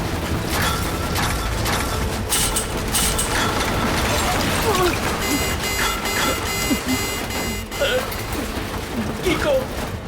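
Cartoon robot's inner machinery being pried apart by toy commander fighters, a busy run of clanking ratchets, grinding gears, clicks and electronic beeps, with voices sounding over the mechanical clatter.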